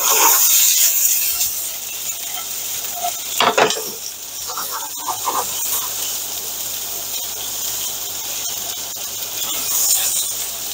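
Red onion frying in a little oil in a pan for a Peruvian lomo saltado stir fry, a close, continuous sizzle with a few stirring scrapes and clatters midway, no talking.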